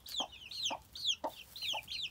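Several little chicks peep in quick repeated high chirps, about six bright calls in two seconds, close by and fairly soft, with small rustles between them and no one talking.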